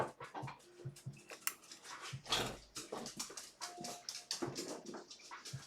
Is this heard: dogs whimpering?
yes